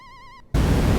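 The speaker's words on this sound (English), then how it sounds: "I don't know why the sound is not emulated perfectly in MAME. It's stuck on the humming sound" Stuck electronic hum from a MAME emulation of the 1981 Cinematronics War of the Worlds arcade game: a steady buzzy tone with stacked harmonics that cuts out, then a loud burst of broadband noise takes over.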